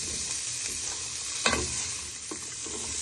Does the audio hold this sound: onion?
yes